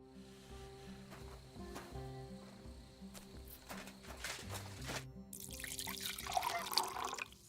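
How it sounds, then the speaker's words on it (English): In Kingdom Come Deliverance 2, water splashes and pours into a water skin from a barrel, rising into a louder gushing fill at the end, over quiet background music. "take my water skin. Fill it up in that barrel over there."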